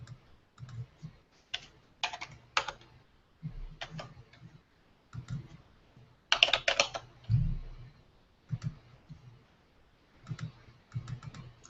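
Bursts of typing on a computer keyboard, clusters of quick close clicks separated by short pauses, with faint low sounds in between.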